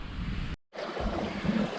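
Hoo Brook, a small stream on a countryside walk, flowing as a steady broadband wash with a brief dropout partway through, fairly close, with no talk.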